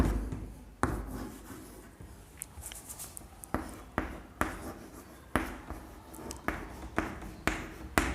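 Chalk or marker writing a chemical equation on a classroom board: repeated taps and scratchy strokes, fairly close, with short rhythmic bursts and no talk.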